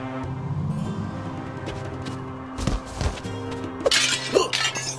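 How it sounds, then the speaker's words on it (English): Objects shattering and breaking in the Hotel Transylvania video game, with a few sharp crashes and glassy clinks late in the clip over steady game music. "You really smashed that object."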